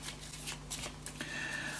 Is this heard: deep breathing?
no